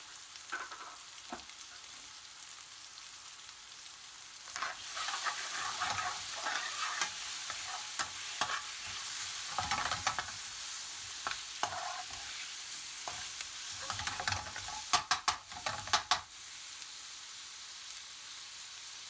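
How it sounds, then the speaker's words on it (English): Chunked onions with pepper and salt sizzle over high heat for a British Indian restaurant dopiaza, with a steady fry hiss broken by repeated scraping and clattering stirring strokes, close and moderately loud. "Turn up the heat and add the chunked onions, pepper and salt, and cook for a couple of minutes."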